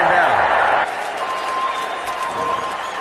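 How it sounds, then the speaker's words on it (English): A stadium crowd at a Green Bay Packers vs Denver Broncos NFL game keeps up a steady, loud roar, with a radio announcer talking over it throughout. "The Packers desperately need a play to quiet this crowd"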